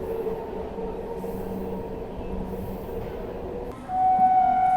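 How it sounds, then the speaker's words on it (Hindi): Suhaildev Express rolling slowly into a station near Anand Vihar, a steady low rumble of wheels and carriages that grows louder near the end as a high squeal or horn-like tone rises. "ये देखिए अपनी सुहेल देव एक्सप्रेस जो है वो आ रही है"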